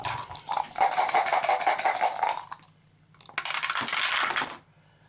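Four dice rattle and clatter across a tabletop during an Arkham Horror game, one long tumbling roll followed by a brief pause and a second shorter burst of rolling.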